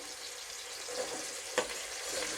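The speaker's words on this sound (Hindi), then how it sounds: "इनको भी तकरीबन 1 मिनट ही मैं इसमें फ्राई करूँगी।" Chopped carrots sizzle steadily in hot oil in a pan while fried rice is being made, a close, continuous frying hiss with a brief clatter of stirring partway through.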